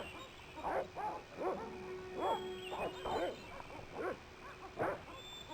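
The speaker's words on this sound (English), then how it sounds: "let's agitate the dogs again and go hide behind the armor" Guard dogs barking in the PC adventure game Broken Sword, a series of about ten evenly spaced barks at moderate distance over a quiet hum.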